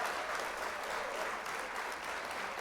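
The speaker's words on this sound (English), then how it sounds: "Clap it up, clap it up, clap it up." Sustained applause from a crowd, dense and even clapping that stays loud throughout.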